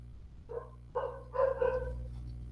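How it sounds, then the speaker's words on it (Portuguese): A dog named Nani barking in a backyard, a few sharp barks in quick succession at moderate distance over a steady low hum. "eu também tenho um cachorro no quintal, então é o latido da Nani"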